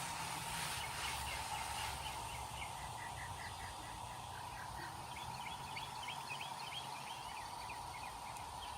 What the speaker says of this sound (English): Birds are singing to us.